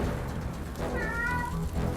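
A single short cat meow from the Forspoken game rings out in the middle of a loud, dense background of roaring fire and rumbling noise.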